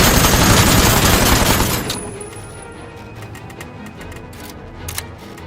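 Rapid-fire weapons rattle off in the PC game Aether & Iron, a dense loud volley for about two seconds that cuts off, leaving a few scattered shots and clanks over a quieter background.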